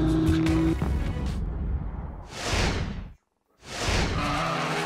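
Onboard the drift car of Daigo Saito on the Taupo circuit at a 2016 D1NZ round: a loud engine roars, then two sweeping surges rise, separated by a brief cutout.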